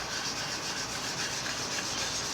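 Red stain is rubbed into the wood finish of a Gibson Nighthawk guitar, a steady, close, scratchy rubbing that keeps up without a break and with no talk.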